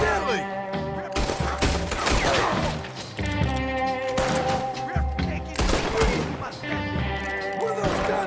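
Gunfire in the Red Dead Redemption 2 video game: dense bursts of shots and crashing impacts layered over a continuous musical score, loud and busy throughout, with voices mixed in.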